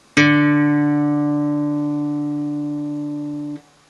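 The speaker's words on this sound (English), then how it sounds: "Then we move to the D string" A single pluck of a guitar's open D string, the fourth string, played for tuning, rings out clearly and decays slowly for about three seconds before it is muted, close and alone.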